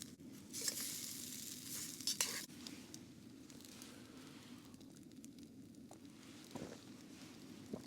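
Flatbread made from flour, natural yogurt and cumin seeds sizzles softly in a pan on a camp stove at a winter wild camp, with a faint steady crackle and a few light clinks of utensils.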